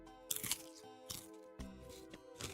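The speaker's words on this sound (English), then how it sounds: "Apologies for the chewing noises." Fresh-cut celery is chewed close up, with several sharp, crisp crunches arriving in irregular bursts between short pauses, over faint background music.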